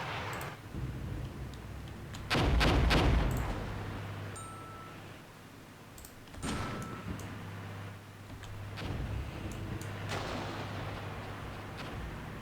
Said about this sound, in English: So our commandos are now firing.